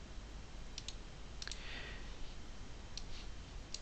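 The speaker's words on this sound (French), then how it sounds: "Vous faites un clic droit, copier dessus." Mouse clicks in a Windows file window while fetching a file path for DOSBox, a few sharp isolated clicks spread over a steady low hum, close and fairly quiet.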